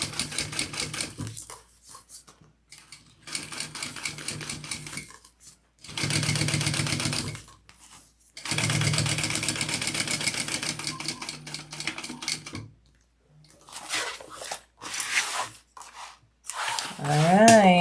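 A sewing machine fitted with a walking foot stitches vinyl in several bursts of rapid, steady mechanical clatter, separated by pauses and slower short runs, ending with a few quick stitches and a brief voice.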